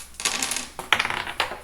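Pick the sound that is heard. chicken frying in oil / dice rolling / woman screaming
dice rolling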